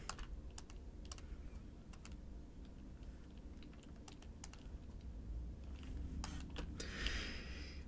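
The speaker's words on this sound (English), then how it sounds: "Wow, your typing speed is insane." Rapid typing on a computer keyboard, a quiet, close, irregular stream of light key clicks over a low steady hum, with no talking.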